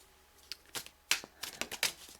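Tarot cards are shuffled in quick soft riffling bursts, a series of close, crisp papery flutters and taps in an otherwise quiet room.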